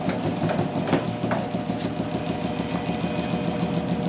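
An induction motor and generator system runs with a steady mechanical hum and rhythmic whirring drone, with faint ticking pulses, close and continuous as it speeds up.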